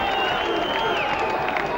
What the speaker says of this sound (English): The crowd roars.